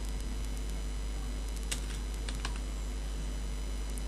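Typing on a computer keyboard, soft quiet key clicks in a few sparse bursts over a steady low hum, with no talking.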